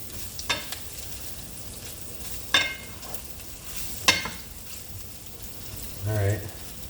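Meatballs fry and brown in olive oil in a pan, giving a steady close sizzle broken by sharp scraping stir strokes, with a brief low thump near the end.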